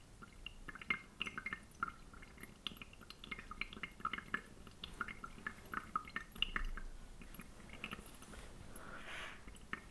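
Hand-drip coffee brewing through Fusuku Coffee Ethiopia dark roast grounds: many small, close drips and ticks, irregular but continuous, quiet and without voices.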